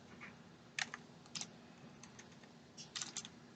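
Computer keyboard typing comes in short, quiet bursts of clustered keystrokes separated by pauses, close and faint, with no voices.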